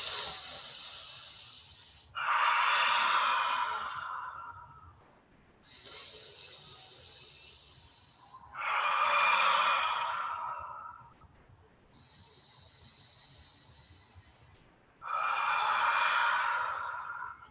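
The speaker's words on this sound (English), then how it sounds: "Take 3 cleansing breaths." Three slow, deep cleansing breaths during a yoga session, each a soft hissing inhale followed by a louder, breathy exhale, close and evenly spaced with quiet pauses between them.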